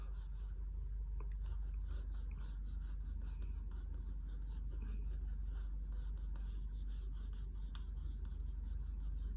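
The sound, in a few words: pencil lightly drawing eye irises on paper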